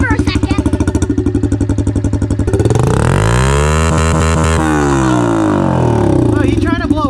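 A Honda motorcycle engine with its exhaust baffle removed cranks and catches, settling into a loud, throaty rumble that swells and revs as it warms up, with people talking nearby.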